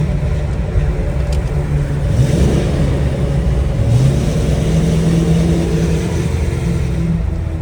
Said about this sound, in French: quand on passe dans la ville, ça résonne un peu plus, là, le V8